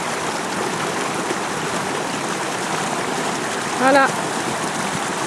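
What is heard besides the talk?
floodwater flowing continuously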